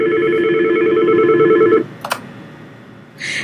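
A Medtel T42 desk phone emits a steady dual-pitch dialing tone that cuts off, followed by a couple of short beeps during a call transfer, close and clear, with no talking.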